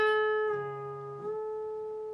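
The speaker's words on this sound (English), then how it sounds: "I'm going to bend it up a full step" Electric guitar note on the G string at the 14th fret, sustained and then bent up a full step, a single ringing tone that slides smoothly upward and holds, played slowly and alone.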